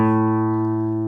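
A guitar's open fifth string sounds an A note, a single sustained plucked tone with rich steady harmonics ringing alone and slowly fading over about a second.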